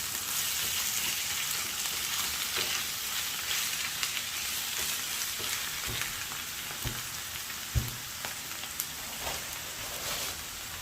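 Liver sizzles steadily in a frying pan as parsley is stirred in, a continuous loud crackling hiss with occasional soft clicks and scrapes, no voices.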